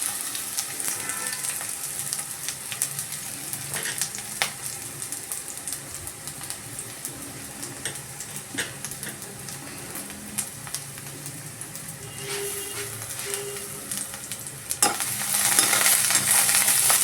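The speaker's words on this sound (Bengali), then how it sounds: "দেখতেই পাচ্ছেন বেগুনটা আমি আলাদাভাবে ফ্রাই করছি" Eggplant (brinjal) fries in oil with a continuous close sizzle, with occasional stirring clicks and a louder surge of crackling near the end.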